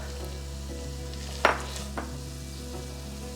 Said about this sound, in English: Okay, now I'm gonna add in my carrots,